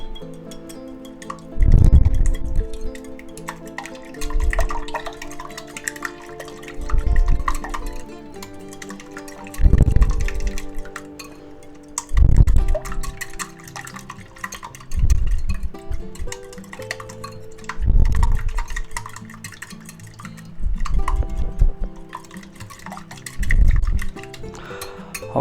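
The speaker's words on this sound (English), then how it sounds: "there's our egg mixture all beat up nice" Eggs for a Korean-style rolled omelet with ham, cheese and parsley flakes are beaten in a bowl, giving repeated rhythmic bursts of clinking and splashing whisking, each lasting a second or two with short pauses between.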